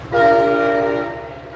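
A passing train sounds a loud, sustained horn blast, steady and close, fading slightly toward the end, with no voices.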